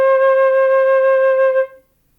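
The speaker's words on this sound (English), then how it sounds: "It's going to sound like this. This is C." A single clear, steady flute note C is held alone for about a second and a half before fading into silence.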